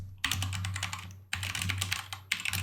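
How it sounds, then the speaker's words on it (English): Quick, close clattering keystrokes on a computer keyboard in two dense bursts separated by short pauses, with a low steady hum underneath. "just type it out"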